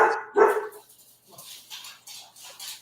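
A pet dog barks loudly twice near the start, then goes quiet while faint indoor sounds and light movement continue for the rest of the moment.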